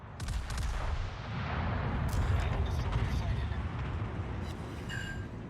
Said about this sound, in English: I'm gonna do alternative fire mode with HE shells.